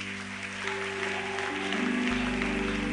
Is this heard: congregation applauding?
yes